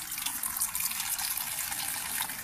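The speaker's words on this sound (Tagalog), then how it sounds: "Kusog man tubig te oh." Water gushes hard from a tap at a rural family property in the Philippines, a steady, bright, splashing hiss that runs on its own without any voices.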